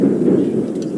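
A thunderstorm in Assassin's Creed 3 Remastered, a brief steady low rumble of thunder and rain, loud and continuous, with no voices.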